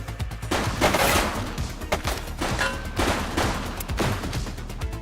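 Rapid gunfire in the police video game The Precinct, repeated bursts of shots cracking in quick succession over a busy action mix.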